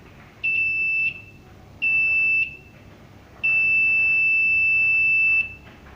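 A multimeter gives its continuity beep as a cable is clamped: three steady, piercing electronic tones, two short and one about two seconds long, each alone and close with quiet gaps between them.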